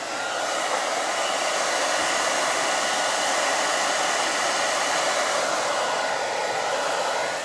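A hair dryer blows steadily and loudly, drying a freshly stenciled Dollar Tree cutting board. The broadband whoosh runs unbroken at close range with no voices over it.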